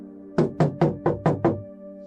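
Six evenly spaced knocks on a door, firm and close, in a steady rhythm over a quiet background hum.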